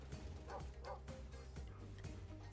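Puppies in a video game bark and yip in short, repeated bursts over a steady, low game soundtrack, quiet and even in level.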